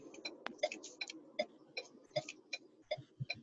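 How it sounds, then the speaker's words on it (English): Car turn signal blinker ticking steadily, about two to three clicks per second, moderately close and alone with no talk. "Someone's blinker is like the perfect little ticking noise"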